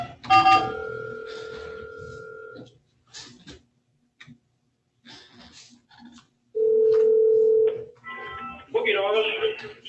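A telephone line calling a jail gives a steady dial tone, then short beeps and tones with gaps, a long ringback-like tone and a final burst of tones, with voices speaking intermittently over parts of the line.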